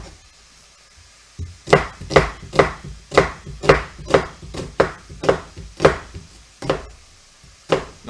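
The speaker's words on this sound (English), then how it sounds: "So we'll slice up another onion." A knife slices an onion on a cutting board while zucchini turkey chili is being prepared: about a dozen close, crisp strikes in a steady rhythm, with no talking.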